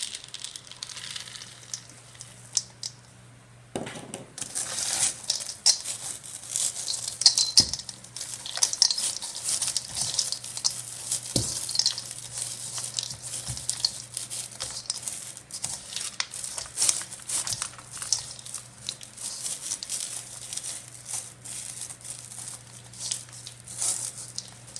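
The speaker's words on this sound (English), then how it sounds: "at this point we're going to be adding in our semi-sweet chocolate chips to combine" Semi-sweet chocolate chips being stirred into oatmeal cookie dough, producing a thick crinkly, crackling rustle that starts a few seconds in and continues steadily up close, with occasional soft knocks and no talking.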